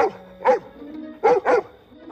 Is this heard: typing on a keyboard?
no